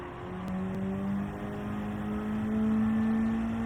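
Race car engine in the Gran Turismo 7 racing game holding a steady, loud drone with rising pitch as the car accelerates out of a braking zone, continuous throughout with no talk.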